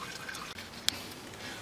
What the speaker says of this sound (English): Alright, so you can see it's dripping super slowly now.